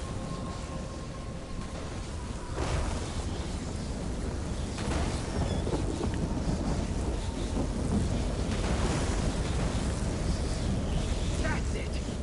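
A lightning spell cast in the fantasy game Elder Scrolls Online, a few loud crackling thunderous bursts that flare up repeatedly over steady rumbling wind-like ambience, with no talk.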